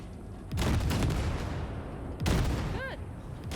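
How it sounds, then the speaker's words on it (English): Weapons fire blasting wrecks in a space video game: two loud, sustained roaring bursts of blasts, the second followed by a brief rising electronic chirp, with no voices. "All right, blast those wrecks."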